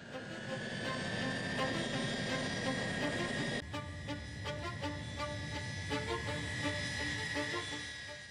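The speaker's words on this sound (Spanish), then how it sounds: "el Tupolev comenzó a rodar por la pista de despegue" A Tupolev Tu-154 airliner rolls down the runway at night for takeoff, its engines producing a steady, loud roar with whining tonal layers that shift partway through.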